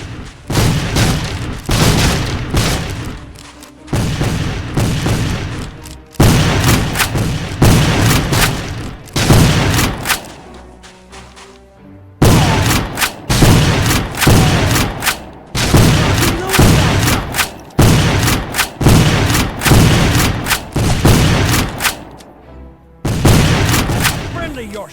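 Civil War battle in a PC video game, with repeated booming rifle and cannon volleys in rapid clusters, loud and close, broken by short lulls and mixed with shouted voices.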